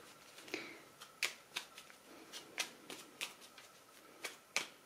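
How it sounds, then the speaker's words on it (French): Klimt tarot cards being shuffled by hand in a quiet room, a run of crisp papery riffles and slaps at an uneven, unhurried pace, close by, with no talk. "je bats les cartes et puis je vais les tirer devant vous"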